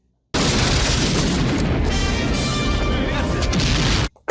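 A bomb blast in the 1988 action film Rambo III, a loud, sustained, dense roar of explosion and debris filling about four seconds before cutting off abruptly.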